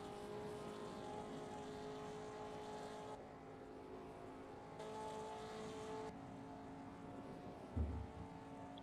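A 1950s Formula 2 race car engine in a racing video game drones steadily at moderate distance, its pitch and level shifting between passes, with a brief low thump near the end.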